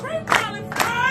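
A crowd responds after a film screening with two loud bursts of shouting, likely chanted slogans, carried over a steady murmur of voices.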